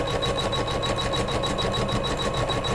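A sewing machine stitches a quilt border on a Kimberbell pillow block, running steadily with a fast, even needle chatter and motor whir close by, uninterrupted and without speech.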